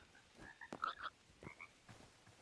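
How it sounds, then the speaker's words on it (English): A frog in the video game Hytale gives a few short, bubbly croaks, close and fairly quiet, in irregular bursts over soft ambient background with no talking. "Frog."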